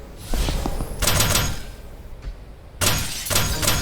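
Blue coffin-like objects being smashed in the tactical game Tactical Breach Wizards: two loud bursts of shattering and breaking debris, the first around a second in and the second near the end, with clattering crunches between them.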